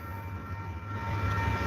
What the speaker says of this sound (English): You can see a train go by soon. Barriers are going down.